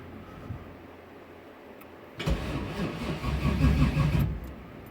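A Ford Mustang engine cranks and fires up for the first time after a rocker arm adjustment. Quiet ticking comes first, then the engine catches and runs roughly, loud and close, for about two seconds before settling.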